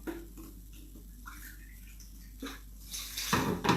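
Water is poured into baking soda, two parts water to six parts soda, for an arts craft; a quiet room gives way to a short, splashy trickling pour near the end.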